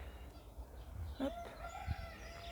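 A rooster on a farmyard walk with chickens and pheasants gives a faint, brief crow mixed with a few low clucks, fairly distant against soft background noise.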